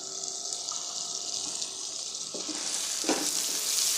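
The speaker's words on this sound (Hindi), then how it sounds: "अब मैं इसमें एक बड़े साइज़ का टमाटर काट के डाल दूंगी" Chopped large tomato tossed into a pan of frying onion, garlic and ginger, a steady hissing sizzle throughout with a louder burst of spitting and stirring near the end, no voices.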